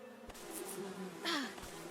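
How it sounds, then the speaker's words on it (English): Two bees buzz in the western survival game Above Snakes, a faint droning hum that swells briefly as one passes close, with a couple of soft thuds. "I now see 2 bees."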